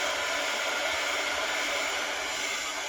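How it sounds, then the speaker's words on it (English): A heat gun blows in a constant loud whooshing roar, drying delicate paint on a paper craft on a heat-resistant craft mat, steady and close throughout with no voices. "I'm going to take my heat gun. So I do apologize, but I want to dry it."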